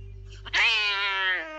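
A cartoon cat lets out a single loud, drawn-out meow, rising and then holding, alone and close.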